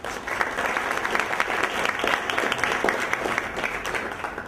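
An audience claps steadily, dense and sustained, to welcome a speaker to the stage, with no voices over the applause.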